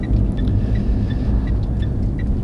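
A Citroen C-Zero electric car rolls along and pulls over, giving a steady low road rumble and tyre noise from inside the cabin, with faint intermittent chirps above.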